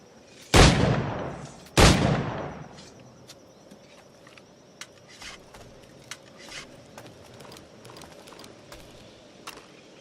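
Two loud, sharp pistol shots ring out about a second apart during target practice in Assassin's Creed 4 Black Flag, followed by faint clicks and light game sounds.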